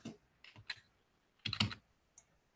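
Keys clack on a computer keyboard in a few sparse, uneven bursts. The taps sound close but quiet, in a room with no other noise.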